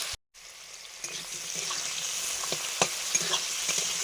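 Chopped onion fries with five-spice (panch phoron) in a pan for a Bengali fish chorchori, giving a steady mid-level sizzle with occasional stirring scrapes after a brief silent gap at the start.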